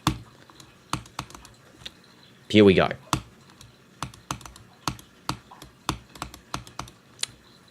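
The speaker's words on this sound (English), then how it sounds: "I'm clicking, you can hear the sound of the click" Sharp, close mouse clicks tap out an irregular rhythm during a Geometry Dash demon-level attempt, with a brief loud burst near the start and a short spoken phrase at the opening.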